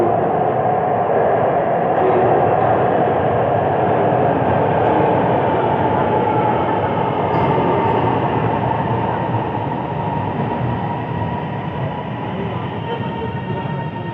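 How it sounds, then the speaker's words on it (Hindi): A Lahore Orange Line metro train pulls into the station with a loud, steady rumble and rolling hum that holds for the whole stretch and eases slightly toward the end. "वो आ रही है हमारी ट्रेन"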